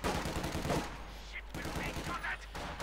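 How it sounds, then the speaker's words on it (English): Bursts of machine-gun fire ring out in a Company of Heroes 2 battle, with rapid clattering rounds mixed into dense battlefield noise at moderate loudness. "Oh, actually firing the machine gun there."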